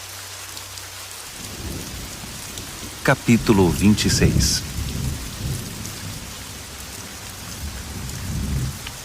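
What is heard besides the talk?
rain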